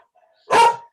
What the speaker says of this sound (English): it's my dog